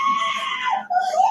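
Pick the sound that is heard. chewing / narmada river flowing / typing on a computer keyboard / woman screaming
woman screaming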